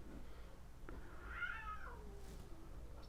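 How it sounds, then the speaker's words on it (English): An older cat lets out a single faint, drawn-out, rising-and-falling angry meow at another cat over quiet background hum, with no voices. "That's the older cat down here that's getting mad at the other one"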